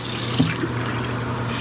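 Tap water runs steadily from a faucet onto a makeup brush, a close, continuous splashing stream with a small drip or two and no voices.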